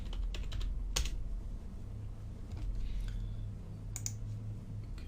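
Keys clicking on a computer keyboard as a short script name is typed, a few scattered taps and short bursts over a steady low background hum, fairly quiet and close.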